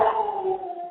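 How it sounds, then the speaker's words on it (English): A dog named Simba gives a single drawn-out howling bark at a passing dog, close and loud, fading over under a second with no talk. "I don't know why the Simba's barking"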